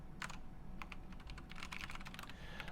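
Rapid typing on a computer keyboard during a programming session: steady, dense clicking keystrokes at close range, fairly quiet, with no talk.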